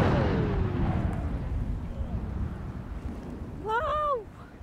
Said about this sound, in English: I was so scared doing that detonation